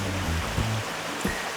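A mountain creek rushes steadily beside a forest trail, a broad even wash of flowing water close by, with a couple of soft footfall thumps.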